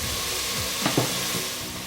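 Chopped onions fry in a hot pan for bhuna chicken masala, a continuous broadband sizzle with a couple of soft stirring scrapes near the middle, no talking over it.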